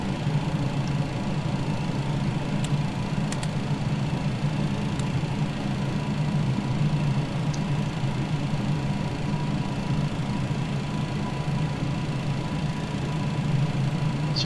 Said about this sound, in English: And we have a good engine start on all our engines.